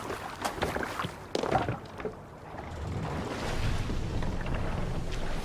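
A sailing ship crossing open sea in Assassin's Creed Valhalla, with steady wind rush and water washing against the hull, a few sharper splashes early and a fuller, continuous surge of wind and waves later.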